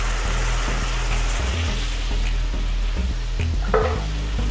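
White wine hisses and sizzles in a hot pan alongside saltimbocca alla Romana, a steady close frying crackle with bursts of bubbling and occasional clinks over a continuous low hum.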